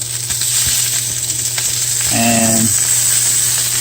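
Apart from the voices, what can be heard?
venison steak sizzling in hot cast iron pan with olive oil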